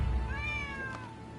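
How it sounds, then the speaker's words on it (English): A stray cat in the video game Rise of the Ronin gives a single drawn-out meow, clear and close, over a low background hum with no talking. "Who'd have thought a stray cat would wander in?"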